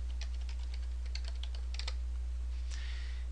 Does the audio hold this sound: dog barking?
no